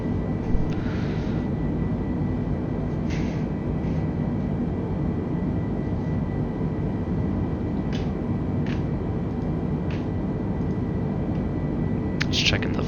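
Engines of an Airbus A320 cruise in Microsoft Flight Simulator 2020, a steady, even cabin drone with a faint tonal hum and occasional soft clicks, with a voice talking over it.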